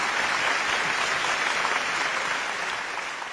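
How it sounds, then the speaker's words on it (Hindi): Dense applause from a crowd at a live Hindi stage show, steady and fairly loud throughout before easing slightly at the end. "जोरदार तालियां आप बजाइएगा।"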